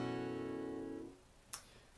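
Acoustic guitar strummed once in standard tuning with a capo on the second fret, a full ringing chord that decays over about a second, followed by a faint brief click.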